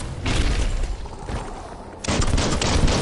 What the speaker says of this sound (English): Bullets everywhere.